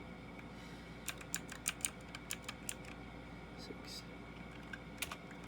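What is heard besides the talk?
typing on a computer keyboard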